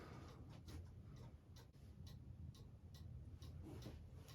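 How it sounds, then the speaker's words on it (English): A cuckoo clock ticks in a steady, quiet rhythm while it is being set up and leveled, with each tick and tock standing apart against a low background hum and no voices present. "I'm going to show you how the tick varies with the angle of the clock."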